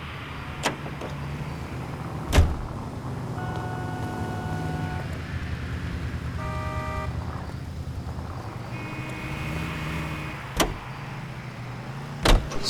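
A car in L.A. Noire runs with a low steady engine hum, joined by a few sharp knocks or door thuds and short tonal chimes, with no talk over it.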